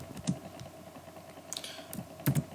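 Typing on a computer keyboard while writing PHP code, a few sparse, separate key clicks at close range over a low steady hum, with no talking.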